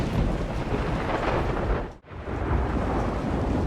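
Thunder from a big storm rolling through a small town, a broad loud rumble with rain and wind noise that briefly drops away midway before swelling back to a steady roar.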